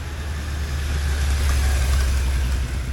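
Sidecar motorcycles race on the Bugatti circuit during a road rally, their engines a steady, loud, continuous drone with a heavy low rumble that holds throughout without pause.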